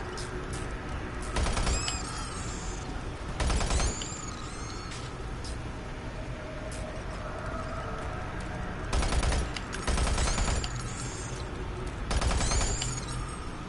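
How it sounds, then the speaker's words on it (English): Bursts of machine gun fire in a video game campaign, several rapid volleys recurring over a steady ambient background, loud and close. "Now machine gun."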